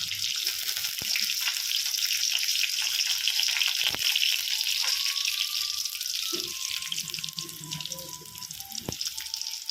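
Mustard seeds splutter and crackle in hot oil while a Kerala fish curry is started, giving a dense, steady sizzle with sharp popping clicks scattered throughout, close and loud.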